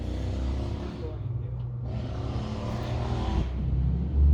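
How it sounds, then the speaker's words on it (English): A Harley-Davidson motorcycle rumbles past nearby with a low, steady engine drone that swells toward the end, with people talking over it. "We'll wait for that Harley to go by."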